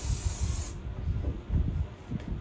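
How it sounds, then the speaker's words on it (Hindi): Hair spray hissing out of an aerosol can in one steady burst lasting under a second, while a hairstyle is being set. The spray is followed by soft handling noises. "हेयर स्प्रे करेंगे।"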